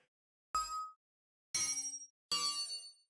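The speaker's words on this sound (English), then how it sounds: "Chime." Three separate bright metallic chimes for an indie game play in turn with pauses between them. Each one rings and decays briefly, quiet and isolated.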